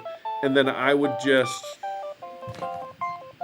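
Telephone keypad tones beep in short steady bursts while someone talks over them, the dialing tones continuing between his words near and clear.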